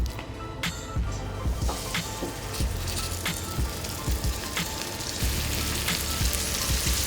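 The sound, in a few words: flour-dredged meat frying in a hot oiled pan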